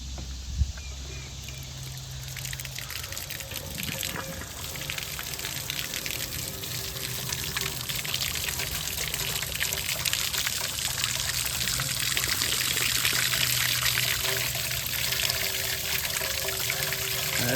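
Water gushing and trickling out of an engine hole on a Lincoln SA 200 welder being rebuilt, a continuous splashing pour that grows steadily louder and fuller as it runs.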